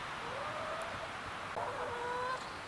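Chickens clucking while foraging for bugs in freshly torn-out garden ground, a few soft rising calls at moderate distance over steady outdoor background noise, with no talking.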